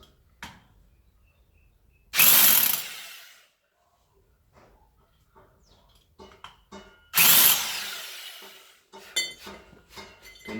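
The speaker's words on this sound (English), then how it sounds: "Kane just drills some pilot holes." A power drill fitted with a 12mm concrete bit bores pilot holes for anchor points, two loud bursts of drilling each lasting about a second, separated by quieter clicks and knocks of handling.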